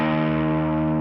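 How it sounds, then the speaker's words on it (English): An electric guitar holds a sustained E flat tuning note through distortion, rich in harmonics and steady for the whole second with no other sound. "Here's an E flat if you want to match to me."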